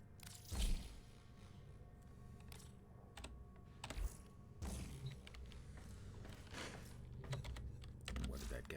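Computer keyboard and mouse clicks while playing Warframe, scattered irregular taps and clacks close by, with a few louder knocks, under low background noise and intermittent talk.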